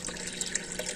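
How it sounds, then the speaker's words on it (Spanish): A small homemade aquarium filter cascade churns and circulates tank water, a steady close splashing wash with brief brighter trickles and drips breaking through. "Esta cascadita lo que hace es girar y girar y girar el agua"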